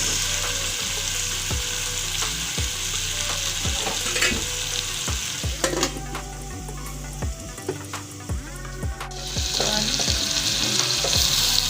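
Beef and tomatoes for a beef wet fry sizzle steadily in a pan over low-medium heat, a continuous loud frying hiss broken by scattered pops, clinks and stirring taps.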